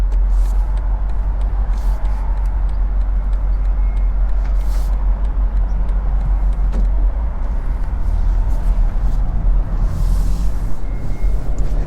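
A 2023 BMW M850i convertible with its V8 and the top down pulls away in comfort mode, giving a steady low engine and road rumble with wind and faint clicks over twelve seconds.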